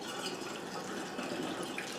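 Hot mead poured through a funnel into bottles, a quiet, even liquid stream with a soft gurgle, steady and close throughout.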